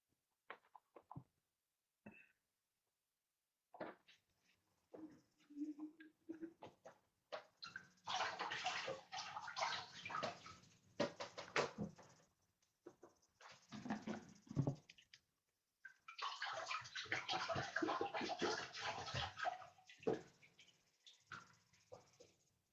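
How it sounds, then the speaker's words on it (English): Water splashes and pours in a foot soak bucket as feet are rinsed, in uneven bursts of sloshing and trickling with short quiet gaps between, close by and moderate in level, with no talk. "let's go ahead and rinse off our feet and set our foot soak buckets aside"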